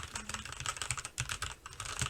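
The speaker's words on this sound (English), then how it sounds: "the keyboard is a bit hollow sounding" Typing on an E-Yooso Z13 computer keyboard, a steady run of close, fairly hollow keystrokes clattering in quick irregular rhythm with no talking.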